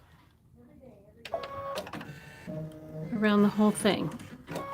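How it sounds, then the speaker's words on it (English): An embroidery machine stitches a basting stitch around a quilt block, its rapid mechanical needle clatter starting abruptly and running in short bursts beneath a nearby voice. "Now we're going to do a basting stitch"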